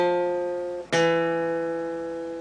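Two single guitar notes on the D string, one ringing and fading before the next is picked, close and clear with no other sound.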